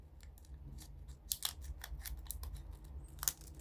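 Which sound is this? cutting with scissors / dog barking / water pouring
cutting with scissors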